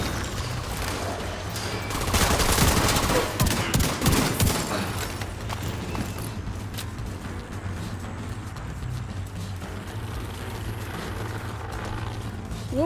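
Fully automatic gunfire in the video game The Division 2, with a dense burst of rapid shots early on, then quieter intermittent firing and mechanical clatter over a steady low game hum.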